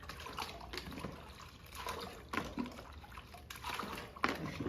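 A pool cleaning product is poured into water, splashing and trickling in uneven bursts at close range, fairly quiet overall.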